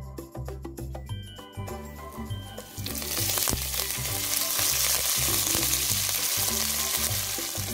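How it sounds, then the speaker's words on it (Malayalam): Mustard seeds, cumin and curry leaves fry in hot oil for a banana-flower stir-fry, starting with crackling and popping seeds, then swelling into a loud, steady sizzle with no talking. "എണ്ണ നല്ലപോലെ ചൂടായി വന്നിട്ടുണ്ട്, അതിൽ കടുകിട്ടു. കടുക് നല്ലപോലെ പൊട്ടിയ ശേഷം അതിൽ ജീരകവും ഇടുന്നുണ്ട്."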